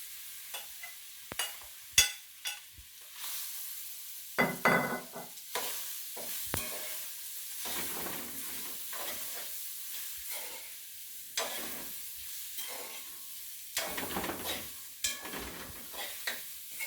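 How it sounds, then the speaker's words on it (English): Garlic and onion go into a sizzling Jamaican-style conch and octopus curry, with bursts of loud frying hiss, stirring scrapes and clinks against the pot, close up and irregular with quiet gaps, and no talking. "I'm gonna put in a little of my garlic and my onion."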